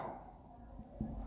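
Pen or pencil scratching steadily on paper as a math word problem about the cost of toys is written out, a soft continuous scribble close by with a light tap near the end.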